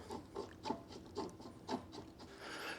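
An 8 mm Allen wrench tightens a metal pedal onto a Tonnerrey T8 dual-motor electric bike in a series of rhythmic ratcheting, rubbing turns, close and fairly quiet.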